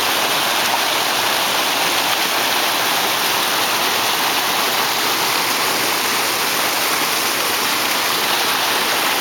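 Floodwater rushing over a farm road after an April flood: a loud, unbroken roar of flowing water, close and dense like a waterfall, with no voices over it.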